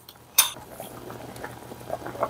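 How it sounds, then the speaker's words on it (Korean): Gochujang potato stew simmering in an open pot, soft low bubbling and liquid gurgles with a brief clatter near the start, quiet and steady. "이렇게 뚜껑 열고 이제 5분 이상 끓였어요"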